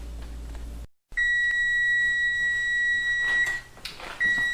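A kitchen timer goes off while banana bread cools in its pan, sounding a steady high electronic tone that pauses briefly and resumes, loud and close.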